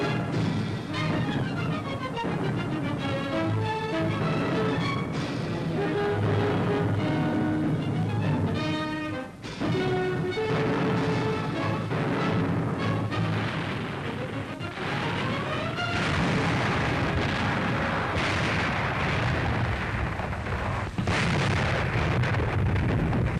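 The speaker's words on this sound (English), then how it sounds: "the guns of the Fifth Army blasted the Germans out of one position after another" Fifth Army artillery guns pound German positions in wartime, a barrage of heavy booms and crashing blasts layered thickly under loud orchestral music across the whole stretch.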